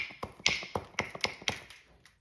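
Sharp taps of a stone or antler tool striking an obsidian slab to knock off flakes, about eight crisp, close knocks in an uneven rhythm with a bright ringing edge, with no voices.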